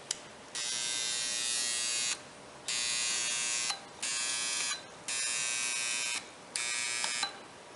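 A coil fed with alternating current gives a loud, harsh electrical buzz that starts and stops repeatedly as the circuit is closed and opened, in five bursts of one to two seconds each, with brief clicks at the switching points.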